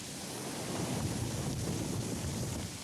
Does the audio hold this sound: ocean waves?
yes